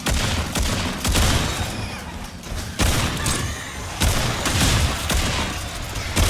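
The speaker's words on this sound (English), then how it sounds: "Did somebody just shoot me in the back of the head?" Gunfire in the video game Remnant 2, a dense run of sharp shots and booming impacts crackling through most of the stretch with a few brief lulls, loud and close.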